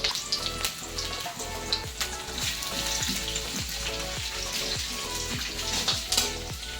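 Bay leaves and dried red chillies sizzling in hot oil in a home kitchen, a steady close crackling fry with rhythmic stirring or scraping strokes throughout.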